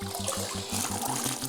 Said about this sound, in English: So I'm going to go ahead and put some more water in it.